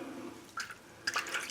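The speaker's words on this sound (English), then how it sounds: "Now we're just going to dump the bloom water out." Bloom water is tipped out of a shaving soap bowl, producing two quiet bursts of splashing and trickling water, a short pour followed by a slightly longer, fuller splash.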